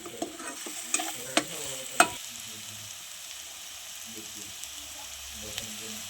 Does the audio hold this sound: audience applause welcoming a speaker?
no